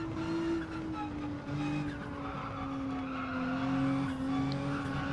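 Nissan GT-R tires squealing hard through a corner in a racing video game, a steady high engine drone running underneath, continuous and close with no voices.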